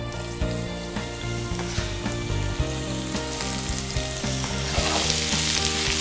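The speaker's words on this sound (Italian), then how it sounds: "in una padella scaldiamo l'olio, facciamo rosolare l'aglio in camicia e aggiungiamo le zucchine che abbiamo già affettato" Sliced zucchini and unpeeled garlic cloves sauté in hot oil in a pan, giving a steady loud sizzle with occasional stirring knocks and scrapes, close up and with no talking.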